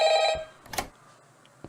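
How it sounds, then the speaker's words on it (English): In a Minecraft Five Nights at Freddy's game set at Fredbear's Family Diner, a telephone rings. A brief, bright electronic ring bursts at the start, then fades into quiet with a faint click. "that's the phone"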